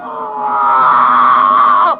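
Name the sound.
screams of torture victims in a horror trailer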